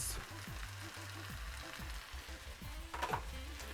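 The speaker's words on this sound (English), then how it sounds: "we're going to go on in and add our green peas and carrots" Day-old rice with green peas and carrots frying on high heat in a pan for beef fried rice, with a steady close sizzle and occasional stirring scrapes. No one speaks.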